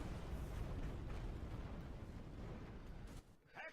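Castle walls collapsing during a siege battle in the video game Medieval 2, a dense, loud rumbling roar of crumbling masonry and battle noise that cuts off abruptly near the end.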